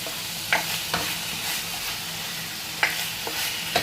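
Pork fat sizzles and renders in a frying pan for adobong baboy, a steady dense frying hiss with occasional sharp pops and clinks of stirring, close and continuous.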